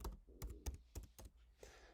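Password typed on a computer keyboard: a quick run of separate key clicks, close and fairly quiet, with short pauses between presses and no voices.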